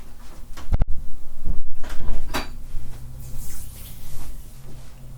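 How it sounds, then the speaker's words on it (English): A door being shut indoors, a sharp close knock near the start followed by softer handling and rustling sounds, quiet room tone around it. "I'm going to shut my door."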